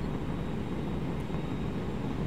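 A Meteor F.4 jet in War Thunder arcade battles gives a steady, dense engine roar that holds at an even level throughout, with no breaks or changes in pitch.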